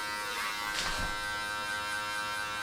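Electric hair clippers fitted with a number 1 guard, fully open, cut a guideline into hair for a low taper, giving a steady close buzz with no talking.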